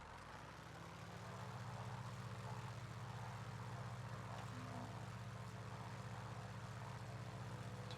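A propeller aircraft with a tail wheel in a flight simulator game runs its engine up for takeoff, a steady heavy drone that swells within the first second and then holds loud and constant, with no talking.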